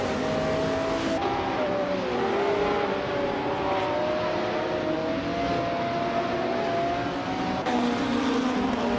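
In a racing video game, the engines of several race cars drone steadily and loudly, wheel to wheel. Pitches shift and whine as the cars jostle, with no talk.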